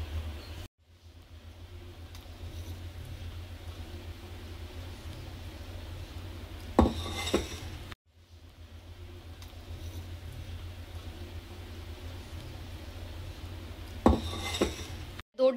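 Mango ice cream mix being poured into a bowl at home, with two short bursts of clinking dishes and utensils against a quiet room hiss, each arriving after several seconds of low handling noise.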